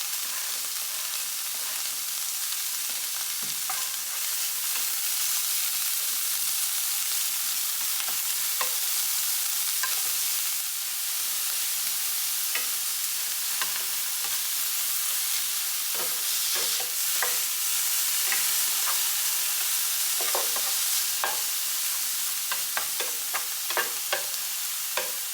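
Bacon fries in peanut oil in a pan, giving a steady close sizzle with frequent crackles and pops, alone with no talking, for the whole stretch.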